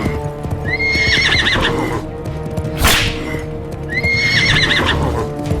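A horse gallops at speed, with steady rapid hoofbeats and two shrill whinnies, plus a sharp whip crack in the middle. The sound is loud and close, with no talking over it.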